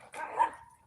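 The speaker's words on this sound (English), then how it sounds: "the puppies over there barking and doing whatever the devil they doing" A puppy lets out a single short bark in a front yard, a brief, moderately close yip that fades quickly, with no talking.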